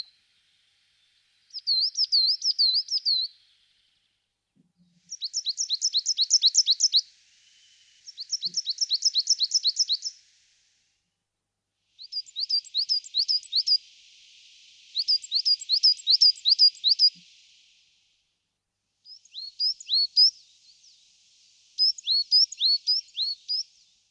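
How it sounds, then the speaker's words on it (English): Coal tit song in woodland at dawn: repeated bright, high two-note phrases in about seven separate bursts, clear and fairly close, with short pauses between them and no other sounds. "This is the coal tit."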